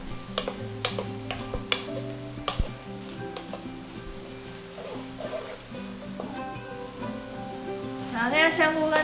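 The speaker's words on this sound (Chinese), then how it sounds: "我们就放入干香菇还有菜脯，一起下去把它煸香" Dried shiitake mushrooms and preserved radish stir-fry in a wok, with a spatula scraping and ticking irregularly against the metal over a soft sizzle, close and moderately quiet, with a voice talking over it.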